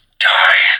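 A Neopixel lightsaber running a Proffie sound font switches off with a single short, loud, airy whoosh lasting under a second.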